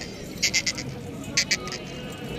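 Goats bleat at a bakra mandi livestock market near the Hyderabad bypass, where Kamori and Pateri goats are sold: two short bursts of repeated high bleats, each three or four calls, over steady crowd and background noise.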